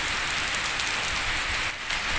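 Steady, heavy unseasonal rain pouring down at a grain market where farmers' paddy lies drying, a dense continuous hiss with pattering on surfaces, close and loud throughout.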